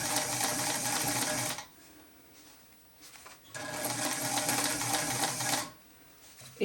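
A sewing machine stitches a curved seam on a maker case, running in two steady, loud bursts of a few seconds each, with a quiet pause between them.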